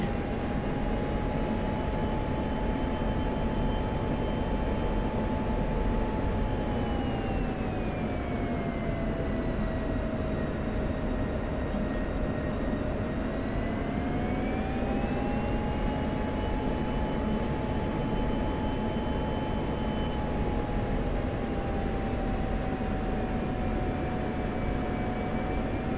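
A loud F-16 Viper jet engine roars continuously in DCS while flying in formation, a steady broadband rumble with a whining tone that dips and rises gently in pitch across the stretch, with no talking.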